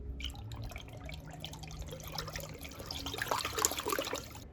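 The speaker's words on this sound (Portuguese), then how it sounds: "Vou colocar um pouco de corante do Iberê." Liquid dye dripping and trickling into a clear bucket of water, small irregular drips and splashes close by, growing busier toward the end, with no talk.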